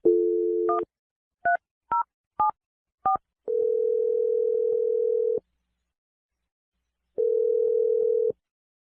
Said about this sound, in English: I'm going to dial his number right now